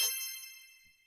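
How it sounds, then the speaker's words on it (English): A single bright notification bell dings once, close and clear, its shimmering metallic ring fading over about a second with nothing else around it. "Ring the notification bell."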